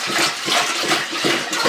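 Water rushing steadily into a large stockpot for homemade broth, a loud continuous splashing pour with a slightly pulsing flow throughout.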